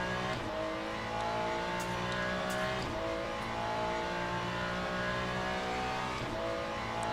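Ferrari GT race car in Le Mans Ultimate, its engine droning steadily through upshifts and revving under load, with a few faint clicks, loud and continuous with no talking.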